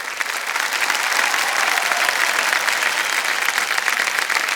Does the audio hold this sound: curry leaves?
no